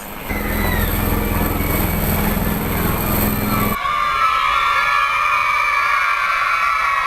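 Dhruv helicopter arriving at Shushufindi, a loud steady rotor and engine roar that continues through the clip, its tone shifting abruptly partway as the noise grows harsher and more whining.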